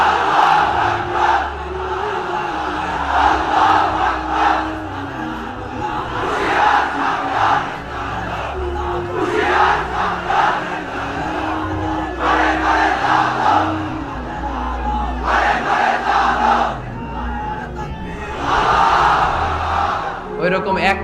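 A large crowd at an Islamic sermon by a preacher roars back in loud, massed shouts, rising in several strong waves over a steady murmur of voices.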